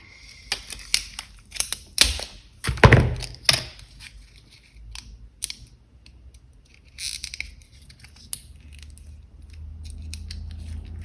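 Scissors cut through the plastic backing of a book-style model kit, giving sharp, close snips and crinkly crunches, loudest and densest early, then sparser scattered clicks and a low rumble toward the end.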